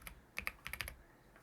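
A burst of keystrokes on a computer keyboard, a handful of quick, light clicks in uneven clusters, close but quiet.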